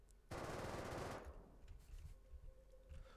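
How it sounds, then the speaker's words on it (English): A semi-auto rifle in the video game Rust fires at a sheet metal building component, a dense rapid burst of shots lasting about a second, then fading reverberant debris and quiet ambience. "we will be going first with the semi-auto rifle"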